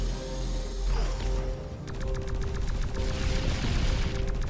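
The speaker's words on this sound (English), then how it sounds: "I'm firing at things on the ground and in the sky" Gunfire in the tower defense game X-Morph: Defense, a rapid rattling stream of shots over a low droning hum, steady and fairly loud with no voices.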